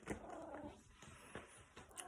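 A house cat crying at the door to be let outside, a few short nasal meows spaced across the moment, close and moderately loud with faint room noise between them.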